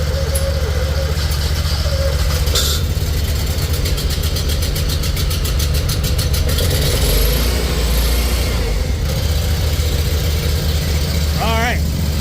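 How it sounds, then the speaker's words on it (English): A carbureted FX 1000 engine runs loud and steady, with a deep low rumble holding throughout and brief rises as the throttle is opened, while voices talk over it. "give the FX 1000 carbureted a go. Give it some more gas."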